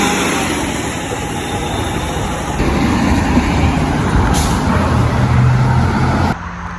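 A city bus rumbles loudly nearby with a steady low engine drone and broadband hiss, shifting in level partway through as it pulls away.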